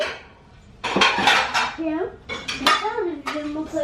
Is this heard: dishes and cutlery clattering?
yes